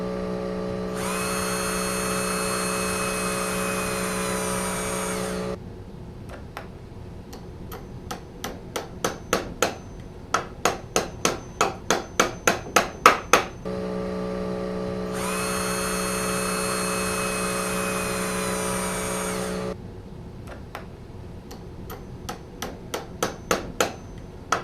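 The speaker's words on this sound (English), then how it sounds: "drilling the nails in one direction and then the other" Two rounds of a power tool whirring for several seconds, each followed by a series of sharp accelerating taps as nails are driven into picture frame corners, a close workshop sound with no talking.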